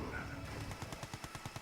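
Rapid gunfire from units in the real-time strategy game C&C Mental Omega, a string of evenly spaced sharp bursts rising out of a dense battle wash in the second half, moderately loud.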